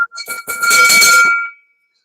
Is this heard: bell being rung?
yes